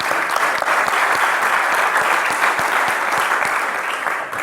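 Sustained audience applause at the SDEWES 2023 closing ceremony, a dense, steady clatter of many hands clapping together at full volume for several seconds, tapering slightly at the end.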